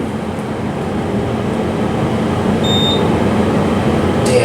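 A newly installed motor on a modernized hydraulic elevator at the Delta King dock in Sacramento runs with a steady, close mechanical hum and whir that holds constant, with a faint high whine and a slight rise in level near the end.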